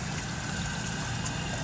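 A toilet tank runs continuously, a steady hissing wash of water that stays even and moderately quiet throughout.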